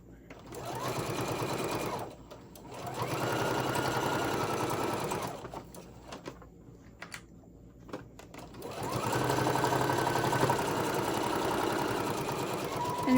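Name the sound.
sewing machine stitching a Halloween tote bag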